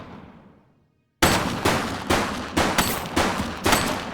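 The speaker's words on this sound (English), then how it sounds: "She's shooting!" A burst of rapid gunfire from a suspect in The Precinct police game follows a second of near silence: loud, sharp shots repeating in a quick irregular volley, close and unaccompanied by talk.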